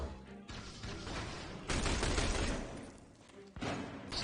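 Bursts of automatic gunfire in The Bureau: XCOM Declassified, loud volleys broken by short gaps and resuming in heavy stretches of combat noise.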